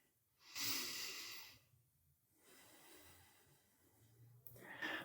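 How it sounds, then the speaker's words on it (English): Slow deep breathing during a yoga flow, with a long, close inhale rising and fading, then a quieter second breath and a sharp intake near the end, no talk over it. "One more deep breath in."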